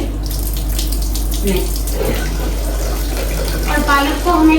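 Spinach rinsed under an open running tap at an outdoor washing spot, a loud steady rush of water with splashing as leaves are handled, with a brief spoken word.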